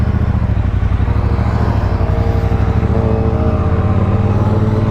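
A 2017 Triumph Bobber motorcycle engine under way, a loud, steady low rumble with dense regular firing pulses at an even pace, heard up close from the bike itself with no talking.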